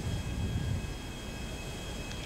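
Airplane in flight in the video game GTA, heard as a steady cabin-like engine drone with a low rumble that fades slightly partway through and no speech.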